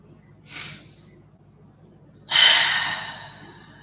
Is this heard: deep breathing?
yes